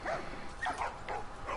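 Dogs in a shop in The Last of Us, a few soft barks and yips in quick succession, faint and somewhat distant.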